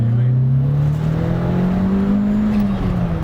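Inside a turbocharged car, the engine drones and climbs steadily under acceleration, a loud continuous rising tone with road and cabin noise beneath it.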